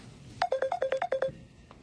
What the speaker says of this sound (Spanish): está tremendo ese teléfono, es el mío